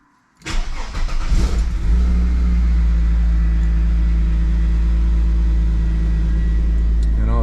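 A Mercedes C36 AMG engine fires up with a short burst, then settles into a loud, steady, close idle hum that continues unbroken to the end.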